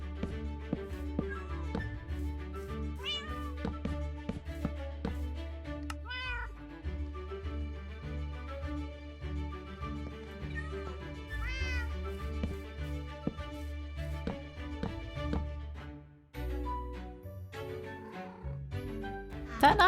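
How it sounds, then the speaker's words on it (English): Cats in Minecraft meow repeatedly near a bed in a hardcore superflat world, with short pitched calls scattered throughout over a steady low background game hum. "That night I took a bed outside and made 3 cats come to bed with me"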